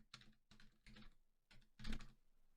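Quiet keystrokes on a computer keyboard come in four short clusters of rapid clicks, close and alone with no voices.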